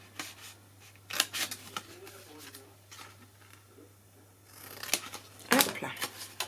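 Scissors snip through paper while shaping a baby-gift box, a few close, crisp cuts in short bursts with pauses between, quiet handling noise and a low steady hum underneath.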